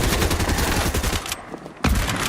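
Rapid gunfire in a first-person shooter, a dense run of loud cracking shots, then a brief quieter gap before one more sharp burst.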